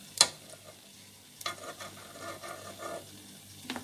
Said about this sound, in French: je mélange sur le feu très faible